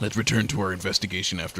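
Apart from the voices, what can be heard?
No distinct noise like a dog, phone or traffic.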